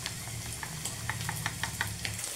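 Besan (gram flour) batter hits a hot pan for a no-fermentation chilla and sizzles steadily, with scattered crackling pops over a low, even frying hiss, close and moderately loud.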